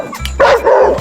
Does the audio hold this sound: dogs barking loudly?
yes